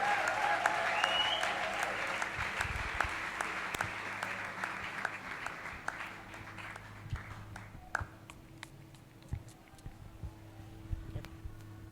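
A church congregation at a worship service breaks into sustained applause, a dense roomy wash of clapping that gradually thins into scattered individual claps, with faint voices underneath.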